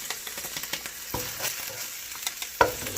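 Ginger and Thai red chilies stir-fried in a pan for vegetarian fried rice, a steady close sizzle with scattered clinks and scrapes and one sharper knock near the end.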